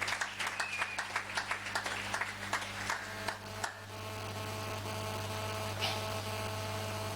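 A congregation claps in a quick, even rhythm in praise of Yahweh at a French-language church service, the applause fading after a few seconds into a steady electrical hum with no voices.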